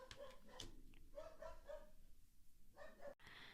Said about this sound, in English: My dog's barking again, so sorry if you hear that.